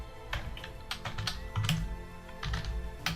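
Fingers tap rapidly on a computer keyboard while someone builds a WordPress site, giving a quick, uneven stream of close key clicks at a steady low level with no talking.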